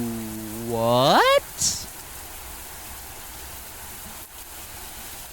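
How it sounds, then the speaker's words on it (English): Heavy rain falls on concrete in the video game MAMIYA as a steady, soft hiss that continues evenly after a person's brief, high-pitched exclamation at the start. "Under a dull, monochrome sky, the rain fell heavy upon the concrete below."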